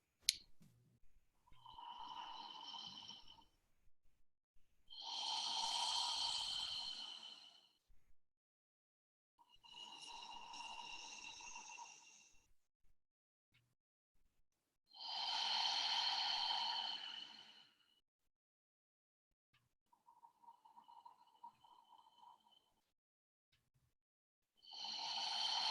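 Slow, deep breaths alternate in and out, each lasting about three seconds with short quiet gaps between them. The breathing is close and airy, and the last breath is faint.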